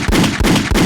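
Three loud, booming gunshot effects fired from a podcast soundboard in quick succession, each a sharp thump with a rumbling tail, roughly evenly spaced.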